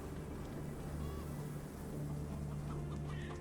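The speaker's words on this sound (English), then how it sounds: "Chase this chicken." A chicken in the video game ATOM RPG: Trudograd on PS5, clucking in short repeated bursts over a low steady game-ambience hum, moderately close, no talking.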